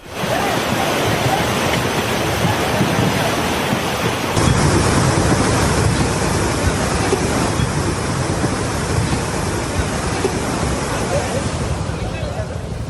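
Floodwater rushes loudly and steadily through Raigad, Maharashtra, a dense roaring wash with wind buffeting the microphone, unbroken throughout and sweeping gas cylinders along.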